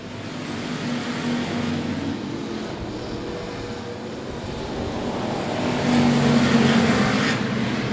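Race cars lapping the track at Cotton Bowl Speedway, a steady roar of several engines with a swell as they pass closer, loud and continuous with no voices.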